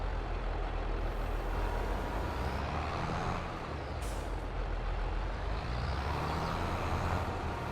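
A heavy farm vehicle in Farming Simulator 22 rumbles steadily across a field, with a low engine drone and a brief hissing burst midway, and no voices.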